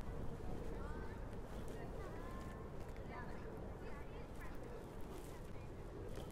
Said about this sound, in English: Bit of a wind blowing.